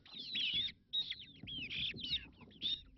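Painted chickens on a village farm in Solai, Nakuru County, making repeated high clucks and squawks in short bursts, with soft scratching and rustling underneath, fairly close.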